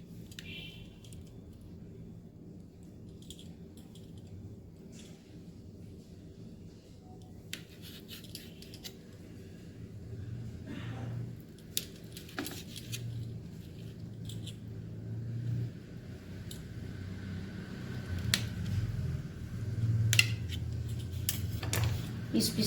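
Knife cutting cooled gram flour gitti dumplings into pieces in a kitchen: soft, faint repeated cuts and taps at uneven intervals, with a low background hum and occasional talk.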